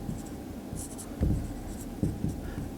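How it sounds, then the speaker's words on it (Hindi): Writing by hand on a surface while explaining computer networks, a steady scratchy stroking with a few firmer taps, close and fairly loud, with no talking over it. "तो यहां पर मैं अब लिख रहा हूं,"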